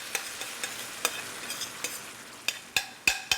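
Diced tomatoes, about a cup, sizzle in a pan after aromatics, with sharp stirring and scraping clicks over a steady frying hiss that grows louder toward the end.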